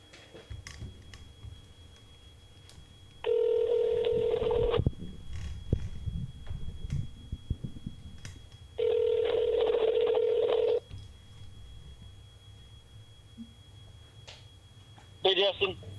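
A phone call being placed, with two long steady ringback tones separated by a pause, loud and close, and faint background noise between them.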